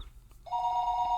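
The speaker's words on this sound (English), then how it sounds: "What do you mean the phone's ringing?" A telephone rings in the visual novel game Higurashi When They Cry, a clean electronic bell tone that starts abruptly and holds steadily, alone and moderately loud.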